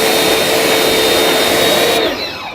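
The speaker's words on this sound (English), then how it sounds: "We're back out here with the Amazon Special Electric Pressure Washer" Amazon electric pressure washer running with a loud, steady whirring drone close by, cutting off near the end.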